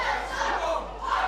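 A pro wrestling crowd cheering and shouting for a wrestler before a match, a loud sustained roar of many voices swelling and dipping.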